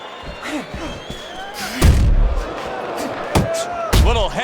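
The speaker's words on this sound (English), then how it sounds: "Little head knocking with that right hand." Punches land in the boxing video game Fight Night Champion, heavyweight bout: sharp, loud thuds and slaps come in quick bursts near the two-second and four-second marks, under crowd noise and a commentator's voice.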